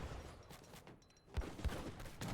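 Heavy cannons fire during an Age of Empires III team battle, a couple of low booming blasts under a busy rumble of in-game combat noise.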